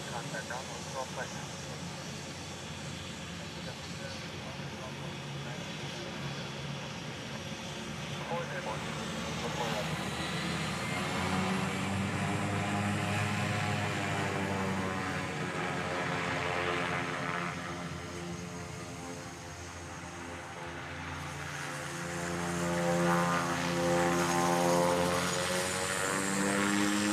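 An all-white Cessna Grand Caravan single-engine propeller plane at Honolulu airport, its engine droning steadily with a rising and falling pitch as it moves, mid-distance and fairly loud, with radio and voices talking over it throughout.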